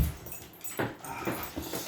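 A pet dog whimpers close by in a few short, high, nasal whines spaced across a couple of seconds, over faint room noise, with no talking.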